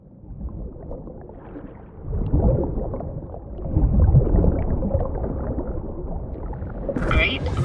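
Swimming through water in the Cyberpunk 2077 video game, with sloshing, churning water sounds that rise and fall in waves and grow louder midway.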